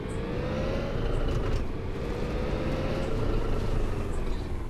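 A car drives steadily on a long drive near Hamamatsu, with an engine hum and road rumble that are continuous and close, with no talk.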